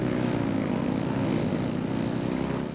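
Engines rev in Genshin Impact, a steady droning roar like a propeller aircraft holding loud and even for a few seconds with no talk.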